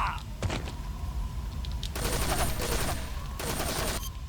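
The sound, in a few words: gunfire in the video game Metal Gear Solid 3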